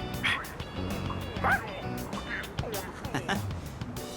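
A dog in the video game Persona 3 Reload gives several short, high yips and whimpers at irregular moments, close and clear, over background game music and a speaking voice.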